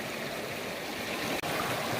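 Steady rushing flow of a gold-bearing creek over gravel and blue clay, a continuous close wash of water with one brief dip near the end.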